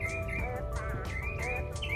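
A loud bird calls repeatedly in quick chirping bursts nearby, its shrill notes rising over a low steady background hum.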